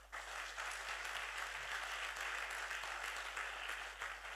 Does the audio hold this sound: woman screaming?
no